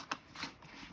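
Paper postcards are handled and flipped over in a quick, soft papery shuffle, very quiet and close, with a few brief rustling flicks.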